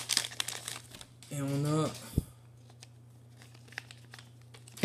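Crinkling and tearing of a Dragon Ball Heroes booster pack's foil wrapper, a burst of close crackling rustles with a brief tear, framed by someone speaking French and a sharp tap.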